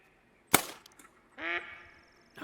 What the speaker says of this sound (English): Northern pintail.